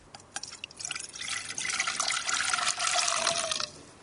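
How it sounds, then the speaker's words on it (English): Water pours into a black saucepan, starting with a few scattered drips and building into a steady, splashing stream for a few seconds before cutting off, close and clear with no talk. "we'll pour that into the saucepan now"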